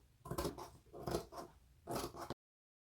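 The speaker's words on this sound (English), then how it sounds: "So I just cut the lining to exactly the same way." Scissors cut through the lining of Ankara fabric in close, crisp snips. Three bursts of rapid clipping come with short gaps between them, and there is no talk.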